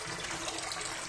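Water from a kitchen tap runs steadily onto a gloved hand, a short continuous splashing gush heard close.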